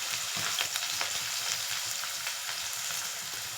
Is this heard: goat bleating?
no